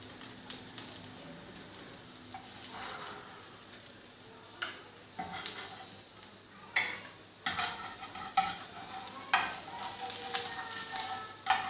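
Kebabs frying in a pan, a low continuous sizzle with irregular soft clinks and scrapes of turning, growing busier and louder toward the end.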